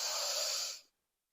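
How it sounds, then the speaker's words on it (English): A single long, deep inhalation, close and breathy, drawing in steadily for under a second before cutting off into silence. "it can be just very deep inhalation"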